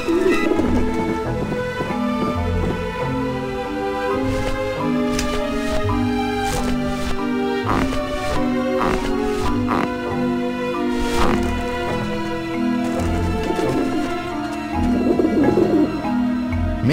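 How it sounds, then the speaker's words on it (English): Pigeons coo on a rooftop dish vent in the adventure game Grim Fandango, soft repeated cooing woven into a steady bed of game music that carries through the whole stretch. "Pigeons obviously like this dish vent."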